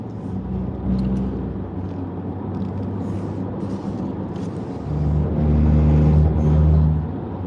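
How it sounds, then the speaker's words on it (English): A car driving on a road in Alaska, a steady close engine drone and tire rumble inside the vehicle that swells louder toward the end, with no talking. "Driving out here in Alaska"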